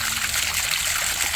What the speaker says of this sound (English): I've never seen such nasty water come out of a well